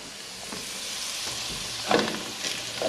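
Potatoes and bacon fry in bacon grease with a steady close sizzle and hiss throughout, plus a few louder crackles and pops toward the end.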